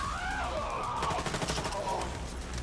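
Sandhawk gun firing in Borderlands 3 at Mayhem level 11, a quick rattling burst of shots about a second long amid game sounds, with a voice briefly heard.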